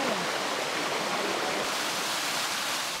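A waterfall at Kanhatti Garden in Soon Valley pours into a pool, a steady, dense rushing hiss of falling water with no pauses throughout.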